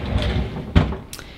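A kitchen bottom drawer is pulled open in a single short sliding thump partway through, with quiet room noise before and after.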